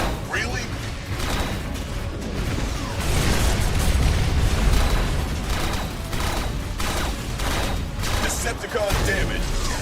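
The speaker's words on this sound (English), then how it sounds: "Open fire on those Decepticons." Gunfire and explosions from the Transformers: Revenge of the Fallen video game roar as a sustained barrage of rapid shots and booming blasts, loud and dense throughout, with voices talking over parts of it.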